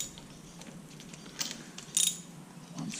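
Ratcheting metallic clicks from a socket wrench turning a new spark plug on a Honda CB125E motorcycle, a few short bursts of clicking, close and fairly quiet.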